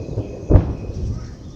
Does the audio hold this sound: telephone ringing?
no